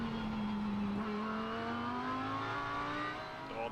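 A Lamborghini GT race car accelerates hard at Sugo during a Japan Cup race, passing slower GT4 cars; its engine note climbs steadily in pitch, a loud sustained rising howl with no voices.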